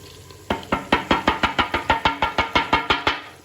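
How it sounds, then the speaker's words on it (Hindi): Half-boiled daal being stirred into chicken masala in a cooking pot, a quick run of about fifteen regular wet knocks and sloshes from a spoon against the pot, close and fairly loud. "अब हम इसमें डालते हैं दाल, जो कि बॉईल करके रखी थी।"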